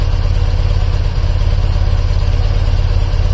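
A BMW airhead motorcycle engine idling steadily around 1000 RPM during carburetor synchronization, a loud, even low throb that stays constant and close throughout, with no voices.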